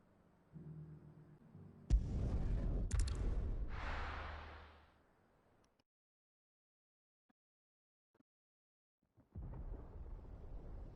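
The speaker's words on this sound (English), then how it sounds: "Sounds like thunder." Thunder in the video game Final Fantasy XVI comes as a deep, loud rumble that swells for a few seconds and fades to near silence. A second low rumble starts near the end, and no one speaks.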